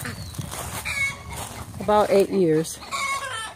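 Backyard chickens clucking near a garden duck pen, brief harmonic calls rising over background noise, with a person talking nearby.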